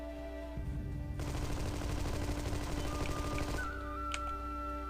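Sustained automatic gunfire from the Xbox game Armed & Dangerous, a dense rapid burst lasting a few seconds over steady background game music and hum, fairly loud, with no talking.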